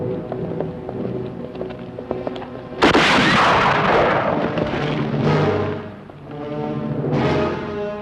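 Rifle gunshots crack out in a Western setting, a loud sudden burst arriving near three seconds over a bed of music, followed by sustained noisy rumble and echo.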